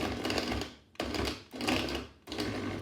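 A countertop blender pulses a chocolate milkshake mix in three loud bursts of whirring, each cut off by a short pause before the next.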